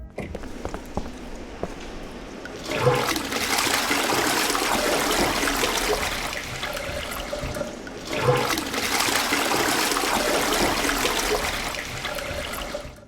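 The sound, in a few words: toilet flushing in the video game Darkenstein 3D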